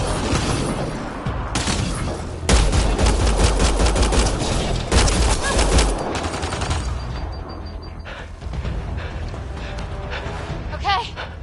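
Heavy gunfire in the video game Mass Effect: Andromeda, dense bursts of automatic fire and booming shots crowding the middle of the clip, loud and close, with shouted voices and game sounds around it.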